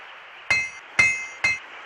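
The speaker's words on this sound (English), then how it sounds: "A hammer." Hammer in the PC game I Spy: Treasure Hunt strikes four times at an even pace, each hit a sharp metallic clink over a faint background hum.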